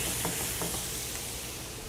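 Jalapeños or serranos hitting a hot pan of caramelizing mango, giving a steady close sizzle and hiss with a few faint stirring scrapes and no voices.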